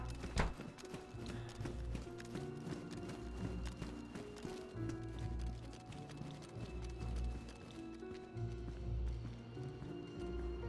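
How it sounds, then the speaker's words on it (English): Zombie footsteps in the video game DayZ, a steady run of quick thudding, clip-clop-like steps inside a busy, continuous game soundscape that stays at an even loudness throughout. "There are zombie footsteps near."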